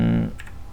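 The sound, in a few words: typing on a computer keyboard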